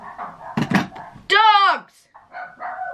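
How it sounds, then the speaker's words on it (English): A dog lets out a single loud, drawn-out bark or yelp in the middle, with a voice talking just before and after it. "Dogs!"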